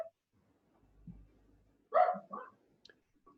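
A dog gives a couple of short, sharp barks close by, following a soft low huffing sound, in an otherwise quiet room.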